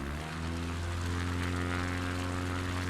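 Steady, loud drone of a bush plane's propeller engine in Microsoft Flight Simulator on the Patagonia trip, running continuously while taxiing on dirt, close and even with no voices.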